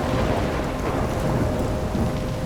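A thunderstorm in the video game Life Is Strange Remastered, with heavy rain pouring steadily under a deep, continuous rumble of thunder, loud and unbroken, with no voices.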